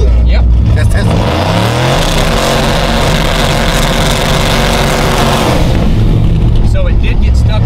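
A car engine stuck in first gear screams loudly against the rev limiter, sustained high revs with a stuttering cut-off buzz, close and overpowering, dropping away near the end.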